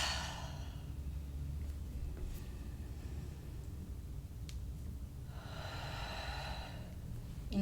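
Slow, audible breaths during a yoga class: a soft exhale at the start, a long quiet pause, then another airy outbreath, close and gentle over a low background hum.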